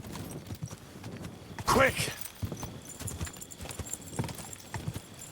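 Horse hooves clip-clop steadily while riding through woods in Kingdom Come: Deliverance 2, with a brief louder burst partway through and someone talking over the hoofbeats.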